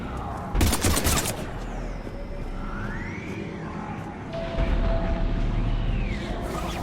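Gunfire rattles in Mass Effect 3 as soldiers shoot at Husks, a dense, loud burst of rapid shots early on and another volley near the end over a rumbling battle backdrop with whooshing, swooping effects.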